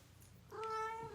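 A pet cat gives a single clear, drawn-out meow close by, rising then settling, with a quiet room behind it and no one speaking.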